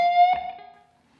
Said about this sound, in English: followed by bending the flat 3 on the 13th fret of the high E string slightly sharp.